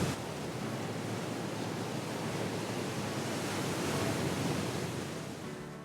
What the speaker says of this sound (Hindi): तो आप लहरें यहाँ पे देख सकते हो समुद्र की कितनी हाई टाइड से यहाँ पर गई